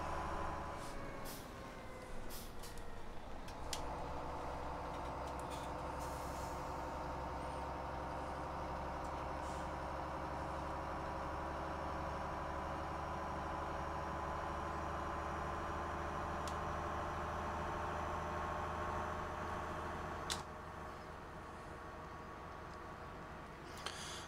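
A truck engine idles in a farming video game, a steady low mechanical hum holding for the whole stretch with a brief hiss, like an air brake, near the start. No one speaks.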